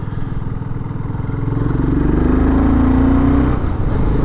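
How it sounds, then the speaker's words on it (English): A BSA Goldstar big single-cylinder thumper motorcycle engine while riding, its low pulsing exhaust steady and close, swelling louder partway through as it pulls in a high gear, with no talk over it. "Big thumper, big single thumper."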